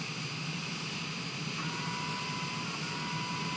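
Aircraft engine in a flight simulator game, the plane back-taxiing down a runway, a constant droning whine and hum holding steady and fairly loud with no talk.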